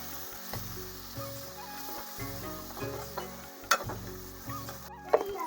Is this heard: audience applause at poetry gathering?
no